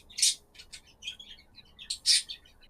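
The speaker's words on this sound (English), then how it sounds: "Has someone got a bird?" Bird chirping in the background of a live esports stream, several short high tweets in scattered bursts, the sharpest near the start and end, fairly clear against quiet room noise with no speech.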